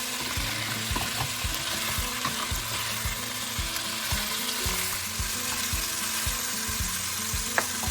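Chopped garlic fries in oil toward golden, a busy steady sizzle and crackle with a repeated rhythmic scraping or tapping of a utensil stirring in the pan underneath, close and without talk.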